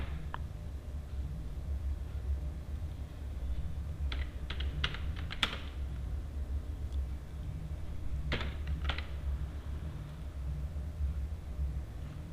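A computer keyboard is tapped in a few short, quiet bursts of keystrokes while Java code is written, with steady low hum behind and long gaps between the clusters.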